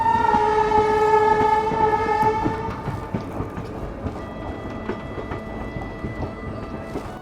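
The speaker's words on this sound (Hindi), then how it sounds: "और ये मेरे ख्याल से Sahibganj Malda town passenger train है, जो कि खड़ी थी, इस ट्रेन का इंतज़ार कर रही थी" A Sahibganj–Malda Town passenger train at an Indian railway station, with a sustained tonal horn blast at the start that fades into a continuous rumble of wheels and carriages, fairly loud and close.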